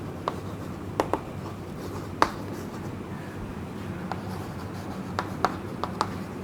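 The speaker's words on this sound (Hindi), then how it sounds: "तो टॉपिक का नाम हम लिख लेते हैं" A teacher writes a topic name on a board during a Class X optics lecture: scattered short tapping and scratching strokes, irregular and fairly close, over a low steady room hum with no talking.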